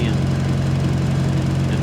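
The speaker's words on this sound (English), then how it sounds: "I got calmed by the welding machine idling and leads rolled out" Steady low engine hum of a pipeline welding rig idling, a continuous even drone with a faint mechanical rattle, holding constant throughout.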